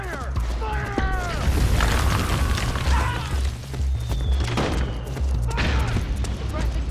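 Gunfire crackles through a Metal Gear Solid 4 battle, with bursts of shots, booms and whizzing effects, while voices shout over the loud, continuous combat.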